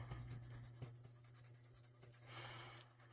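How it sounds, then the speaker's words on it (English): Crayola colored pencil scratches softly across paper in quiet, repeated strokes, faint and close, over a low steady hum. "I turn my paper the whole time I'm coloring."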